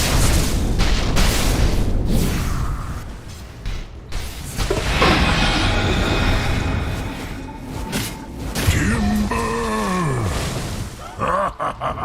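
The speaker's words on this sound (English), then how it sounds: "Dire's top tower is under attack." A tower under attack in a Dota 2 pro match sets off loud, repeated booming explosions and impact blasts, mixed with roaring spell effects and swooping game sounds.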